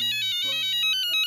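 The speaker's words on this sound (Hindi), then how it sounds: "लो, डॉक्टर हाथी का भी फोन आ गया।" Phone ringtone chirping in short repeated electronic bursts, loud and close, playing alone with no talk over it.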